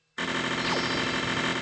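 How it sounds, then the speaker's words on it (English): After a brief silence a harsh, buzzing electronic drone starts abruptly and holds steady and loud, with a faint sweeping tone inside it, as the flipper button stays pressed in a Simpsons flash pinball game. "Oh, and if you hold the flipper button, this happens."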